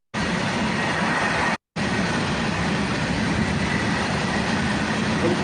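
A very long Indian Railways Anaconda goods train rumbles past close by with a loud, steady roar that drops out briefly before resuming.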